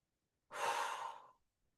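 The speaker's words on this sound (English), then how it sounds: "Take a deep breath in and out." A single deep breath drawn in and let out during a foam roller mobility and core exercise, a soft airy rush lasting under a second, close and clear with nothing else around it.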